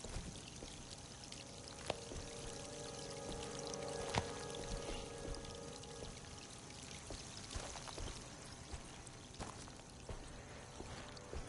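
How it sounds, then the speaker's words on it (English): Water pouring and flowing steadily in the video game Alone in the Dark, a continuous watery rush with small splashy accents, moderately loud and without any voices. "it's flowing with water now"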